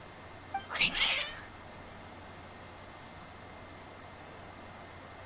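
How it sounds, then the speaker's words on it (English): Cats meow in a brief, fairly loud burst of two or three overlapping calls early on, in the video game Genshin Impact, followed by quiet background. "Your cats seem pretty worked up."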